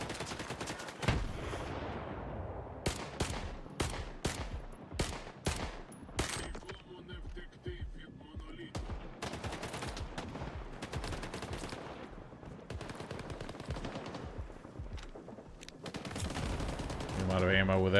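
Bursts of machine-gun fire in the video game STALKER 2, rapid volleys cutting in and out over a dense game soundtrack and effects, with a voice speaking at times.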